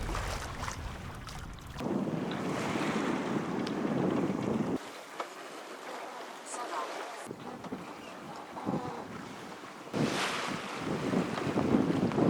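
Wind buffets the microphone while a sailboat heads southeast out of Annapolis on Chesapeake Bay in a south wind, with waves washing and hissing against the hull in shifting gusts.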